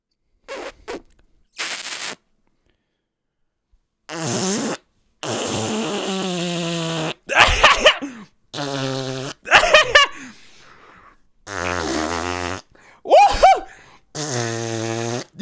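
A voice imitates fart noises in a run of separate blurts, some short and sputtering, others long, buzzing and drawn out, all close and loud with short silent gaps between them.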